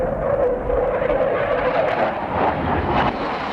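A Sukhoi military jet, the Su-25 ground-attack plane, flying with a steady, loud roar and a whining engine tone, unbroken for a few seconds, with no voices.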